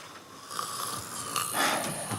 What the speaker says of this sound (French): Il ronfle déjà comme un moine irlandais.